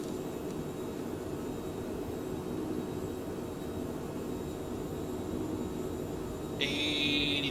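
A jet engine runs at maximum throttle for takeoff in a flight video game, a steady and fairly faint roar with a brighter whine rising near the end.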